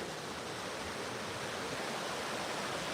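A couple of waterfalls in a wooded area rush with a steady, broad roar, faint and even throughout, with no voices or other sounds breaking through.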